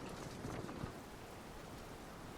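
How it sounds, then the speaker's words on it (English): Steady wash of rain falling in the medieval strategy game Medieval Total War, a continuous even hiss with a few soft thumps early on, no voices. "And it's starting to rain"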